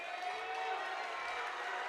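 A varsity boys basketball crowd in a gym roars after a dunk, a steady, broad wash of cheering and shouting that holds at a fairly even level throughout, with a faint tone running beneath it.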